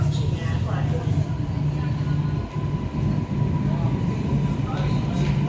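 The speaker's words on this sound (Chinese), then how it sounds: "The train bound for Tianhe Park is approaching at platform." Guangzhou Metro Line 13 train pulling into an underground platform, a loud steady low rumble and rolling hum of wheels and motors with brief dips, over a platform announcement voice.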